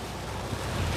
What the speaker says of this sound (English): you just want to enjoy this good soaking rain